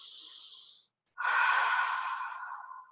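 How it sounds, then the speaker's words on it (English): A slow, deep breath: a soft airy inhale, a brief pause, then a longer, fuller exhale trailing off, close and quiet with no talking. "Take a nice deep breath."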